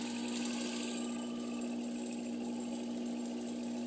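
Sewing machine running continuously while stitching fabric, a steady mechanical whir with a constant hum and rapid needle rhythm, close and unbroken.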